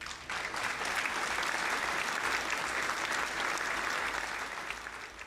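A room full of people applauds inside the video game House Flipper, a steady, dense burst of clapping that lasts about five seconds and then fades slightly at the end.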